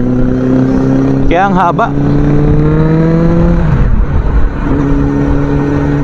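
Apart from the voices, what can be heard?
Suzuki Bandit 650 motorcycle engine revving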